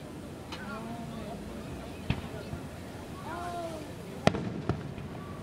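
A Fourth of July fireworks display with sharp, scattered bangs arriving after the bursts, two loud cracks and a few softer pops over steady crowd chatter and background murmur.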